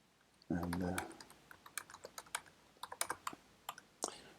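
Someone types on a computer keyboard while coding in Python, with a quick, uneven run of crisp key clicks following a brief spoken word at the start.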